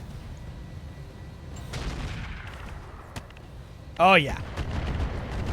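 Artillery fire booms in the RogueTech mech game as a few faint, scattered blasts behind a steady background hum. A short spoken voice cuts in near the end.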